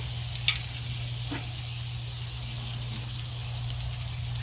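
Cream cheese melting on a hot Blackstone flat-top griddle gives a steady, close, even sizzle with a faint hum beneath it and a couple of soft clicks, and nobody is speaking.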